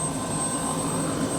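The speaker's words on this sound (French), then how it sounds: "Mais ouais, vraiment bel hélico." Old helicopter, fully retrofitted, running near a parking area, a steady loud whirring engine drone with constant rotor hum, no voices.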